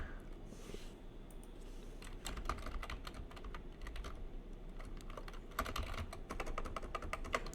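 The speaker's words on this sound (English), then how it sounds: "So here we type it out." Fingers tap out code on a computer keyboard in quick, uneven bursts with short pauses, the clicks fairly close but soft against a quiet room.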